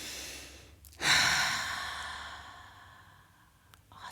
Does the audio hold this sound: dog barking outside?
no